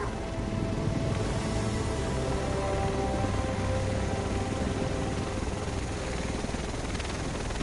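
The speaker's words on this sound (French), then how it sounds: "Le reste de l'équipe devrait être dans cet hélico." A helicopter arrives in The Division over Manhattan, giving a steady, loud rotor roar with dense whirring wash that holds unbroken throughout, with no voices.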